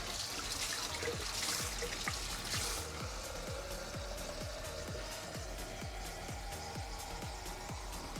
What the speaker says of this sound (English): I will add a bit more liquid